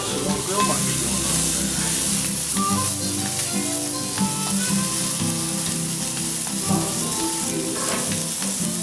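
Steak and potato sizzle loudly on a hot grill in a continuous crackling hiss, with occasional clinks and shifts from a utensil and faint murmuring from someone nearby.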